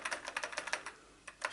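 Key presses on an Atari 520 STE keyboard, a quick run of crisp clicks in an uneven rhythm, then a short pause and two more taps, close and clear.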